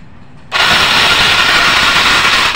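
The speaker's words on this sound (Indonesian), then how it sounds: "Jadi motornya walaupun bisa di starter tapi nggak bakalan nyala itu." A Yamaha Mio motorcycle with no ignition spark cranks on its electric starter without firing, a steady loud whirring drone that switches on abruptly after half a second and runs unbroken to the end.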